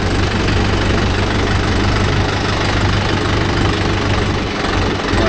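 A Mahindra Yuvo Tech+ 585 DI tractor engine runs steadily up close, a loud, continuous diesel rumble with a rhythmic knocking beat and no voices.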